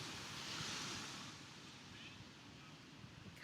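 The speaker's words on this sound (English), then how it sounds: "tune in again to the sound of these waves" Ocean waves wash in soft and distant, a gentle hissing surge that swells early and then eases into a low, steady rush.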